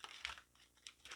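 Tarot cards being shuffled by hand, quiet papery crinkles and riffling bursts recurring in short uneven flurries, close to the microphone with no talking.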